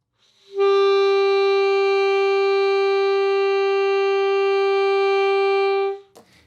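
Alto or baritone saxophone sustains a single steady E note for about five seconds, rich in harmonics, clean and close, ending with a small key click.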